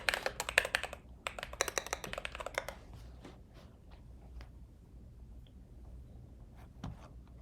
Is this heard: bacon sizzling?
no